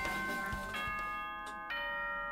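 An announcement chime from the video game Danganronpa 2 rings out as a sustained, bell-like sequence of tones that shifts pitch a few times. It is clear and steady, with no talking.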